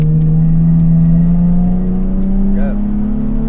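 A car's engine drones steadily and climbs slowly in pitch under hard acceleration on the Petzael race track during a track driving lesson, heard from inside the cabin with a faint brief chirp partway through.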